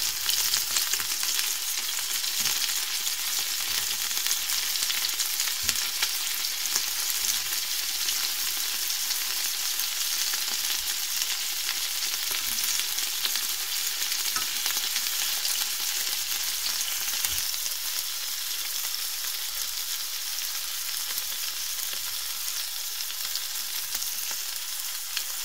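Meatballs frying in a pan give a steady, continuous sizzle with a faint crackle, heard close and alone for the whole stretch, without pauses or voices.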